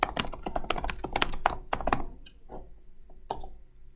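Typing a note on a computer keyboard: a quick run of close, crisp key taps, bunched in a rapid burst for two seconds, then a few slower, scattered clicks with short pauses.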